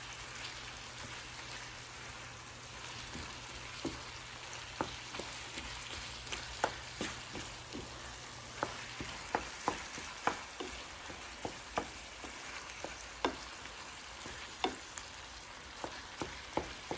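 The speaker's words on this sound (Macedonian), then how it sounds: "Сега го пржиме убаво месово." Minced meat frying in a pan for homemade burek, a steady close sizzle with scattered sharp crackles and pops that grow more frequent, no talking.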